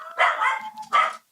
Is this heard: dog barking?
yes